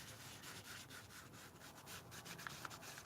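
Yellow ochre paint is rubbed onto a mixed-media craft page, a soft continuous scratchy rubbing with faint quieter strokes, close and low in level with no talking.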